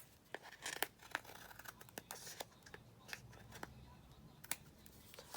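Scissors trimming the edge of a glued paper craft pocket, giving a run of short, crisp snips and papery rustles up close at a quiet level, with no talking.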